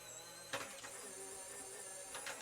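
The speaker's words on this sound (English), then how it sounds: "I'm going to run to the machine. I'm going to die cut it." A die cutting machine runs paper and a die through with a steady mechanical whir, with sharper bursts near the start and the end, and no talking.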